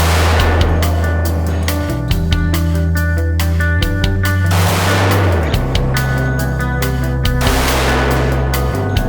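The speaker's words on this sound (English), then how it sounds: "this is your first experience shooting a 10 mil, and on top of that, it happened to be a compact 10 mil" A Glock 29 Gen 4 compact 10mm pistol fires a rapid string of loud, close shots, each sharp crack followed by ringing, with no talking.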